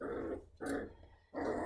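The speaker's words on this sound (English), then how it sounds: "she's biting the other puppy and it's too hard and the other one's squealing" Lagotto puppies play-fighting, one biting too hard while the other squeals: three close bursts of growling, squealing puppy noise separated by brief pauses.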